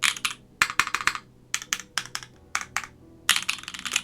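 Typing on a KBD Fans Boop Redux mechanical keyboard fitted with GMK Evil Dolch keycaps, crisp clacky keystrokes in quick bursts and flurries with short pauses between, close and clear with no talk.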